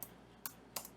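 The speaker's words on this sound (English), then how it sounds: "I'm sorry about my slow typing." Slow hunt-and-peck typing on a computer keyboard: three sparse, faint key clicks spaced well apart over a quiet background.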